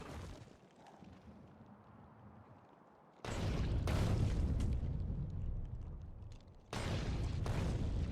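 Heavy artillery shell explosions in the factory-building game Factorio arrive as deep, rumbling booms over a low background drone, with two sustained loud bursts of blast noise.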